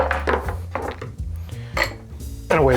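Ice scooped into a metal cocktail tin for a Cherry Almond cocktail, a run of loud, close clattering clinks and rattles spread across a few seconds, with no talking.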